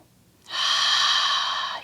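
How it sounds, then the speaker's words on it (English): Ujjayi breathing during a yoga flow: a single long, steady breath drawn through a slightly constricted throat, a smooth close hiss that begins abruptly and holds evenly to the end. "Squeeze the back of the throat slightly. Create that ujjayi breath."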